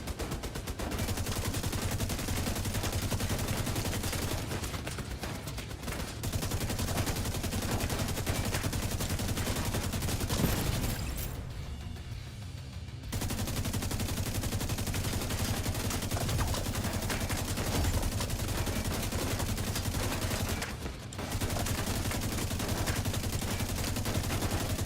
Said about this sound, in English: I'm getting shot at.